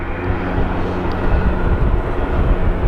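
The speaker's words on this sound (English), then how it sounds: "Sounds like there's some sort of propeller plane taking off now" A Rex propeller plane taking off at windy Sydney Airport, heard as a loud, constant broadband engine roar that holds steady throughout with no talk.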